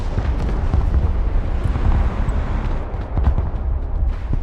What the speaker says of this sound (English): Bomb run on target.